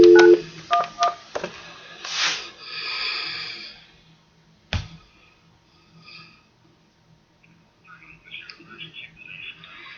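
A rapid series of telephone keypad tones is dialed at the start, then breathing and handling noises follow, with a voice briefly present.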